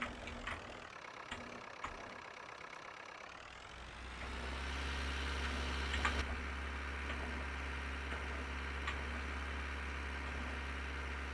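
A Fordson Major tractor in Farming Simulator 19 starts up and settles into a steady low idling drone that grows louder after a few seconds and holds constant, with no talking.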